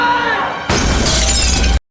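An artifact in the TV series Primeval shatters: a mid-level rumble gives way to a sudden loud, dense burst of breaking and crumbling that runs on for about a second before cutting off.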